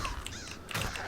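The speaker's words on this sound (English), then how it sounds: "I'm just fighting a bird." A video game bird caws during a fight, a couple of harsh, close calls over a steady game soundtrack background.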